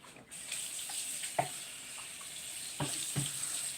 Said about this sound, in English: I'll wash this board off right quick